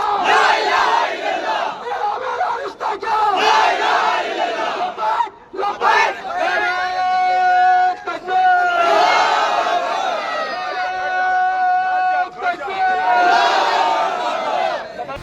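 Large crowd loudly chanting religious slogans in unison in Kerala, voices surging in repeated rhythmic waves with brief pauses between shouts, dense and close.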